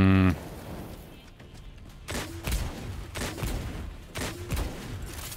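Heavy gunshots from the video game Exoprimal fire at a slow rate, several booming reports spaced about a second apart, close and loud over a rumbling game background.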